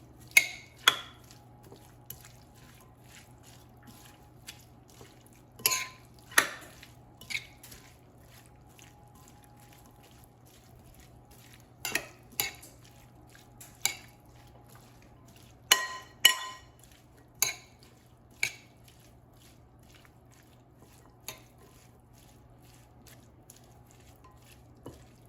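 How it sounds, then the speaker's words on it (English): Chipotle corn salsa ingredients are stirred together in a bowl, giving sparse, close clinks and soft wet scrapes spread irregularly over a quiet, low steady hum. "And now I'm going to mix everything together"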